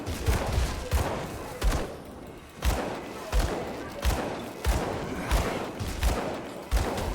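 Gun firing in the action RPG Grim Dawn, a steady series of punchy thumping shots roughly every half second to second, each with a short crackling tail, over a faint voice.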